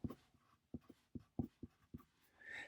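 A pen writes out a math equation in a series of quiet, close scratchy strokes with short pauses in between, in an uneven rhythm. No one speaks.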